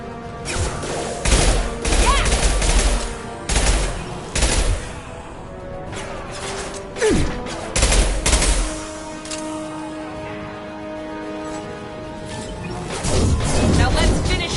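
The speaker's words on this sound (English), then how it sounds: "Firing concussive shot." Concussive Shot firing in the video game Mass Effect 2, loud bursts of blasts and booms repeating over a dense barrage of gunfire and thuds, with a voice calling out over the combat.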